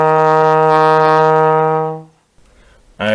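A trombone holds a sustained E flat with a rich, steady tone for about two seconds before fading, followed by a short pause and a brief onset of another sound at the end.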